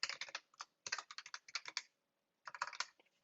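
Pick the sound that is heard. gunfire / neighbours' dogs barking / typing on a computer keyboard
typing on a computer keyboard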